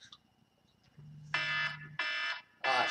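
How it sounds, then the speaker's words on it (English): A timer alarm goes off as a steady low hum gives way to three bursts of shrill electronic beeping, each about half a second long, close and clear with no talk. "And that's my timer going off."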